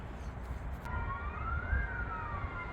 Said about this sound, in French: J'adore le SAMU, maintenant, ils mettent la sirène à l'américaine